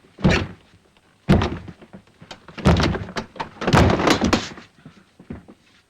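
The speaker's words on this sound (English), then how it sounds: "Can you break down the door?" A door is forced and broken down: heavy wooden thuds and crashing blows land one after another, loud and close, with splintering rattles between the impacts.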